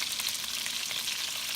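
Shrimp fry in a pan for seafood kare kare, a close, continuous crackling sizzle with a fine spattering texture and no talking.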